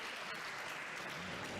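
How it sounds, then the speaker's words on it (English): Crowd applause at a squash final between Victor Crouin and Auguste Dussourd: steady, dense clapping that is fairly faint and distant, filling the whole short moment. "Got the applause it deserved."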